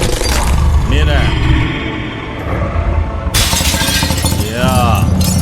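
Glass shatters in The Wolf Among Us game, loud crashing breaks punctuating a dense game soundtrack with a brief quieter lull between them.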